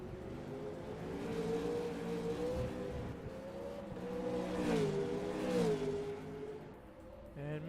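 V8 Supercars roar through a sim racing league event at Symmons Plains, engines revving and shifting as the cars pass down the back straight, steady and moderately loud beneath a commentator's voice.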